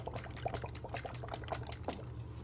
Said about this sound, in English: Now you want to start adding a good splash of soy sauce in.